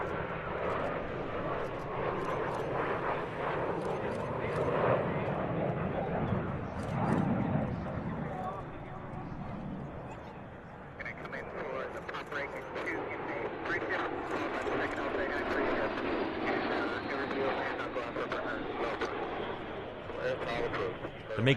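An Alpha Jet of the Patrouille de France, the French national aerobatic team, roars past at an air show. Its steady, broad engine noise holds throughout under continuous narration.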